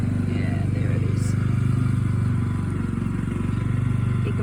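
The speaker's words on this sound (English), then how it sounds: "You can probably hear the mower in the background." A lawn mower runs steadily out in a paddock, a constant low droning hum held in the background for the whole stretch, with no break in its rhythm.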